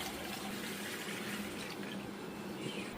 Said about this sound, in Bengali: কল বন্ধ করো, কল বন্ধ করো।